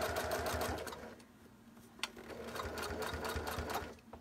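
A home sewing machine stitches off a fabric corner about a quarter inch from the edge, running in a steady close mechanical whir with rapid needle ticks and a brief pause near the middle.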